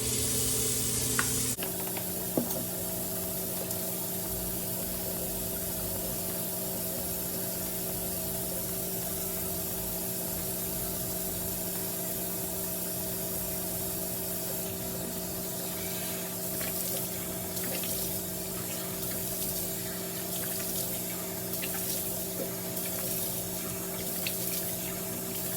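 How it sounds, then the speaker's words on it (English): Washing a face with water and CeraVe Hydrating Facial Cleanser: a steady spray of running water with a constant low hum underneath and occasional small splashes, no voices. "So to wash my face, the Hydrating Facial Cleanser by CeraVe."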